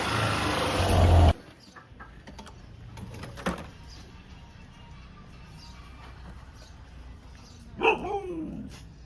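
A pet dog named Coco reacts as its owner comes home, giving a short whining or barking outburst near the end after a loud rumble at the start, with quiet household background in between.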